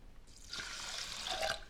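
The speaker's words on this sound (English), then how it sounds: "I'm putting in the quinoa and a little over 1 1/4 cups of water." Water pouring into a pot of quinoa, a short splashing rush that starts softly and swells into a steady close-up pour.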